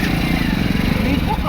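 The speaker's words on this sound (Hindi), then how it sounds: "थोड़ा गाड़ी स्टार्ट करो" A motorcycle engine running with a steady low, rumbling pulse, close and loud, near a riverbank in Ghaziabad.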